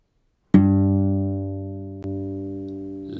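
Two plucked notes on the open G string of a cello, each a deep, resonant pizzicato that rings and slowly decays, the second following about a second and a half after the first, heard alone in a quiet room.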